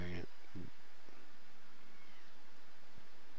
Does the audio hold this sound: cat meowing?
yes